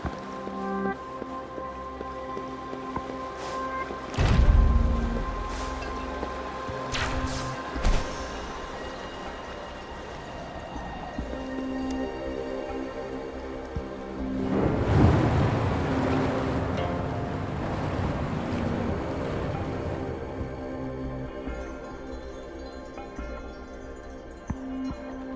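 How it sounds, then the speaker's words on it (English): Rushing, surging water from a level drop in the video game Wuthering Waves, with two swelling washes around 4 and 15 seconds over a steady layer of game music and ambience; no talking. "The water level just dropped again."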